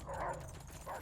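A dog barks and yips in World at War gameplay on Xbox One, with several short, muffled yelps mixed into game noise.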